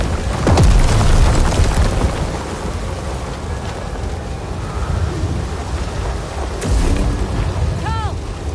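A thunderstorm in the video game Star Wars Jedi: Survivor: heavy rain hisses steadily while a loud thunder crack with rolling rumble hits early and another boom follows later, all close and dense.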